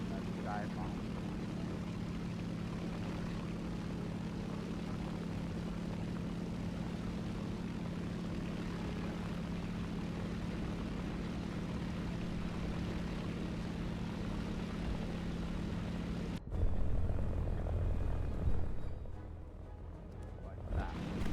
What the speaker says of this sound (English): Not sure if this plane is meant for dive bombing.